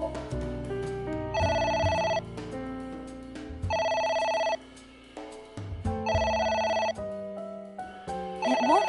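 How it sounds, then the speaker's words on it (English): A telephone in the video game AI: The Somnium Files rings in four regular electronic bursts of roughly a second each, separated by pauses, clear and prominent over soft game background sounds, with no talk. "A phone. Should I pick it up?"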